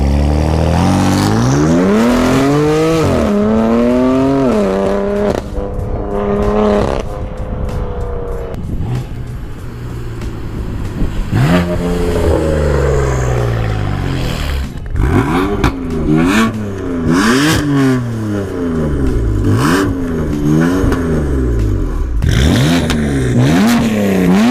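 A modified BMW M4 engine and exhaust rev hard and loud, pitch climbing and dropping in repeated sweeps, with sharp throttle blips and crackles in the later part and no talking.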